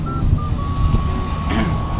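Reversing beeps from buses maneuvering at a busy bus stop, a steady repeating electronic tone over rumbling idling engines and traffic, with people chatting faintly in the background.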